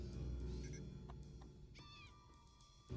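A cat in the video game Imposter Factory gives a short, fairly faint meow, set against background game sounds.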